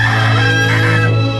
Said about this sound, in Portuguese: Eu não sei qual foi o galo que cantou, eu sei que o galo cantou